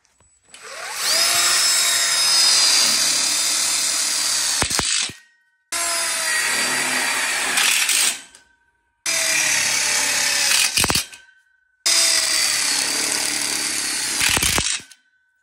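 A power drill drives screws into ConnecTubes one-way couplers for an outdoor kitchen frame, in four loud whirring bursts of a few seconds each, each ending in a ratcheting click and separated by short pauses.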